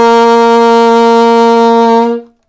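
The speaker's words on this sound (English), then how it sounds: "The note G on the alto saxophone." A single sustained G on an alto saxophone, held steady and full for about two seconds before cutting off cleanly, with rich harmonics and no other sounds around it.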